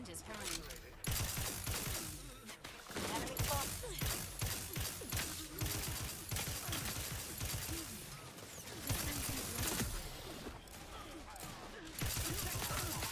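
Rapid gunfire from a video game crackles almost without a break, dense bursts and impacts mixed with a game soundtrack and a talking voice.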